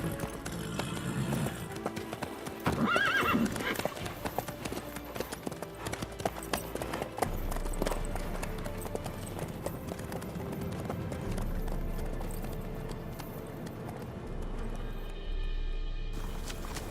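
Video game horse hooves clip-clopping at a steady walking rhythm, moderately close and fairly quiet, continuing throughout with bits of talk and background game sound mixed in.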